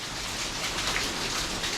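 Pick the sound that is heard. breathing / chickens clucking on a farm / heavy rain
heavy rain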